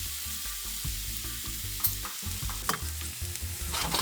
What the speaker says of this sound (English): Cook down in our pan with all the brown bits from our fish all working together